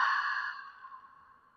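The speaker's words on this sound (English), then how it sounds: "Exhale out mouth" A single long exhale out through the mouth during a yoga breathing sequence, a soft breathy sigh that starts fairly strong and slowly fades over about a second and a half, close and alone.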